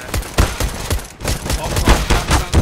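Rapid, repeated USP pistol shots ring out in a first-person shooter match, a loud, steady string of sharp reports with a short gap midway.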